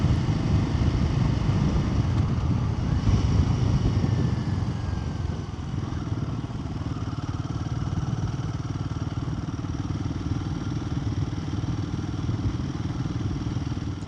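A brand-new Royal Enfield Himalayan motorcycle rumbles steadily while being ridden, its engine drone running close and constant under wind and road noise with no voices.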